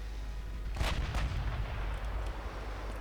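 Naval guns firing high-explosive shells in the naval strategy game Ultimate Admiral Dreadnoughts boom twice in quick succession, followed by a lingering low rumble over a steady background hum.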